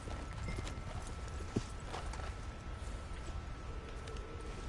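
Horse hooves clip-clop steadily in the Red Dead Online video game, a rapid galloping patter set low in a dense outdoor ambience with a soft background hiss.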